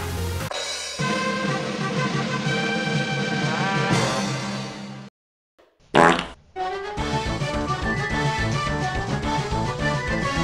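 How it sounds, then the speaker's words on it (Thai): A comic fart inside an elevator, loud and long with a buzzing, bleating tone, breaking off briefly into silence before another sputtering burst and a drawn-out rasp. "เราไม่ควรที่จะ อั้นจนกระทั่งผายลมภายในลิฟต์นะครับ"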